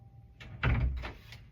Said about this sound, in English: I've got to shut this door.